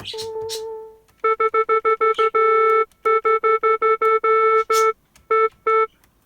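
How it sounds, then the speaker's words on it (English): A string of electronic beeps from a Casio sampling keyboard at one pitch, the note A, mostly short and quick, some held longer, loud and close with brief pauses between. "as you're pressing the button, it's going beep beep beep,"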